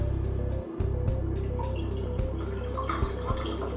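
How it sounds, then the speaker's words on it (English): Wastewater is poured into a small measuring beaker, a steady close trickle and splash with scattered drips and clinks of glass. "we are going to pour up 200 milliliters of this wastewater"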